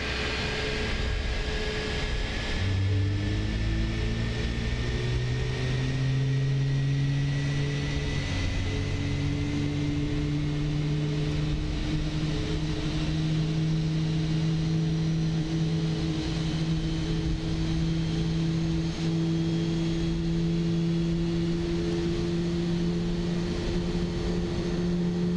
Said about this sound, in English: let's see what engine startup looks like from this view.